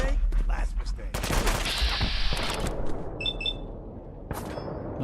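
Plasma pistol fire in Fallout 4 during a fight with raiders: a rapid burst of sharp, loud shots followed by a few bright ringing tones and a final crack.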